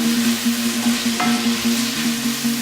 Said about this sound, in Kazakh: Енді пиязымызды қуырып алдық.